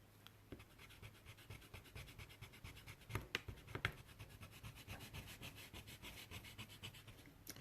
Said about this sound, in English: Now I gotta erase it